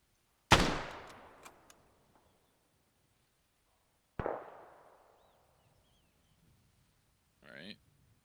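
Two sharp, loud rifle shots are fired at a target at a marksmanship range, each with a long decaying echo, a few seconds apart. A brief faint sound follows near the end.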